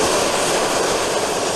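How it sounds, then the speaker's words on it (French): A broad, steady roar from the airliner carrying Mali's president as it lands at Conakry-Bessia International Airport, loud and continuous with no voices. "l'avion transportant le président du Mali atterrit ici à l'aéroport international Conakry-Bessia"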